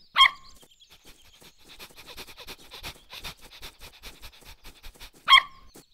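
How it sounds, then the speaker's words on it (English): A puppy barks sharply twice, once at the start and again near the end, with soft panting and snuffling close by in between. "this is my puppy, Hero"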